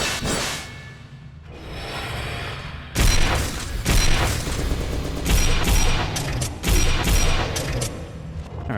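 Heavy booming gunshots from Shrine II, a Doom 2 total conversion game, several loud, punchy blasts with sharp onsets spaced over the clip amid gritty mechanical noise.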